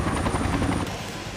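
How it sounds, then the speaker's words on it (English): A search and rescue helicopter over the Sierra Nevada wilderness gives off a steady, pulsing rotor chop and engine drone, fairly close and loud, then eases slightly at the end, with no talk. "I hit the chopper again."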